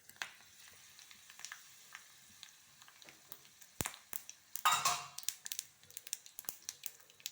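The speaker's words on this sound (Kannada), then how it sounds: "ಗೀ ಹೀಟ್ ಆಗಿದೆ. ಇಲ್ಲಿ ನೋಡಿ ಫ್ರೆಂಡ್ಸ್, ಸ್ವಲ್ಪ ಸಾಸಿವೆ ಹಾಗೆ ಒಂದು ಒಣಮೆಣಸು ತಗೊಂಡಿದ್ದೇನೆ, ಡ್ರೈ ರೆಡ್ ಚಿಲ್ಲಿ ಹಾಕ್ಕೊಳ್ತೇನೆ" Mustard seeds and a dry red chilli fry in hot ghee with a faint, scattered crackle and sizzle, then a brief louder spatter partway through.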